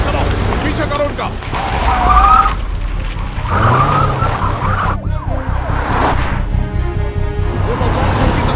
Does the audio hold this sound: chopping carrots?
no